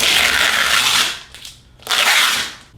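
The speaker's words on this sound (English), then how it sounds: "I am starting with the door, simply removing the tape." Packing tape peeled from the glass front door of a Bambu Lab P1S 3D printer: two loud, broad ripping pulls close by, split by a brief quiet gap, with no talk.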